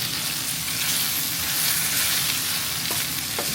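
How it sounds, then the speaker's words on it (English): Spinach sizzles and wilts in a hot pan, a dense, even frying crackle that holds steady throughout, with a couple of faint clicks near the end and no voices. "So at this point, we want to just cook down the spinach."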